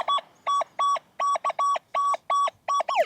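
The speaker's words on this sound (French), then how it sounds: "le ferreux qu'on entendait tout à l'heure en grave va sonner en aigu" An XP Deus II metal detector sounds a string of about ten high-pitched electronic tones over a ferrous target on a beach. The evenly spaced beeps come close and clear, and the final tone bends in pitch.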